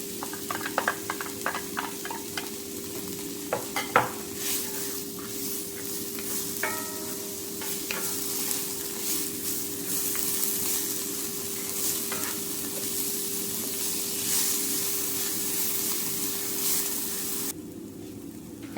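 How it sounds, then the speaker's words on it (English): Onions frying in hot olive oil in a pan over medium heat, a steady close sizzle with scattered stirring clicks and scrapes throughout, no talking. "Once that oil is hot, I'll then add my onions and cook over medium heat until translucent"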